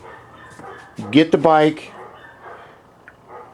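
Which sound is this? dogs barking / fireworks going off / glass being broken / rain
dogs barking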